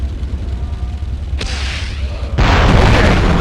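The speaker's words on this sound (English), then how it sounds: "Now launch your rocket at the tank." A rocket fired at a tank in the game Conflict: Desert Storm 2, with a sharp launch crack and then a loud, rumbling explosion that rolls on as heavy noise.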